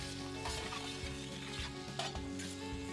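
Pork tenderloin, broccoli, ponzu and soy sauce stir-fry in a pan with sesame oil, giving a steady close sizzle with soft scraping and stirring clatter throughout.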